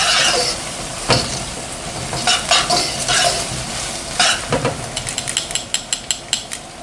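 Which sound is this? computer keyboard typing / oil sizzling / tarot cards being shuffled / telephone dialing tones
oil sizzling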